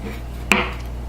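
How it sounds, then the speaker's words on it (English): A knife slices once through fruit being cut thin for a fruit pizza, giving a single short crisp cut over a steady low background hum. "So I'm going to go ahead and slice it this way."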